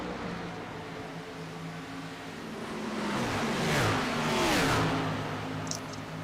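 Stock-style race car engines roar in a sim racing game at Atlanta, a steady drone that swells as cars sweep past with rising and falling pitch, then eases off again.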